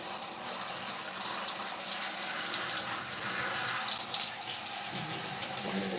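Steady running water from a sink tap rinsing natural hair during a protective twist styling session, a continuous hiss with faint splashing, close and even throughout, with no talking.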